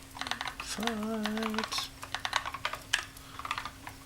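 Quick, irregular clacking from a computer keyboard, typed close by in short bursts, while a person briefly speaks over it and a low hum runs underneath.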